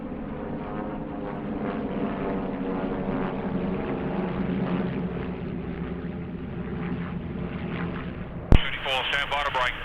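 Propeller engines drone steadily as RAAF trainer aircraft fly over an airshow at Temora Aviation Museum, with a sudden loud bang near the end followed by a brief radio voice.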